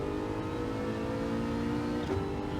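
A race car engine in a racing game revs steadily and strongly as it powers out of a corner, a continuous loud drone with no talking.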